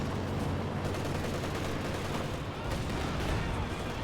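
Gunfire in the World War II strategy game Company of Heroes 2: a dense, continuous crackle of rifle and machine-gun shots with distant booms, steady and moderately loud throughout.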